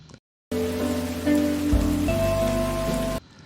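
Steady rain pours down on a scene where a woman walks outside in the downpour. The rain is a dense, continuous hiss that cuts in abruptly and stops just as suddenly, with soft tones beneath it.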